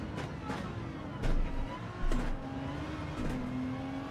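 A GR3 race car engine in Gran Turismo drones steadily and fairly loudly, with brief rises in revs and a gear change, under a faint voice.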